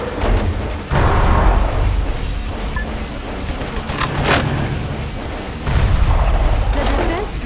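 Heavy booming artillery fire from a gun battery in the mech action game Metal Wolf Chaos XD, loud dense rumbling blasts that swell at about one second and again near six seconds, with sharper cracks between.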